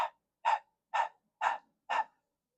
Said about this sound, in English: the breath of fire, the breath that's similar to the panting of a dog